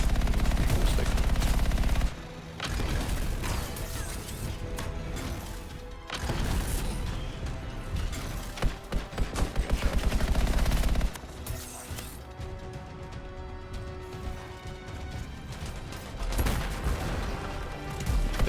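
Automatic weapon fire from a gun that shoots instantly in the game Anthem, with loud sustained rattling bursts and crashing impacts across most of the stretch, broken by short pauses, with no speech over it.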